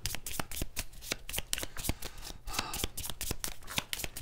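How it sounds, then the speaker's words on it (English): Playing cards riffle-shuffled and handled during a Green Lantern board game, rapid crisp flicks and snaps in quick bursts, close and fairly quiet, with no talking. "And I gotta draw, shuffle."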